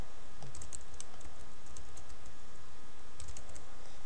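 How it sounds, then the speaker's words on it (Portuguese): Someone types on a computer keyboard while entering a name into a data form, producing short bursts of crisp, close key clicks that break off briefly and then resume, with a steady background hiss. "Se eu digitar aqui, por exemplo, o nome Maria"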